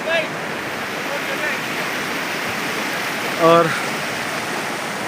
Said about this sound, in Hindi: अब सिर्फ यही दरिया चल रहा है।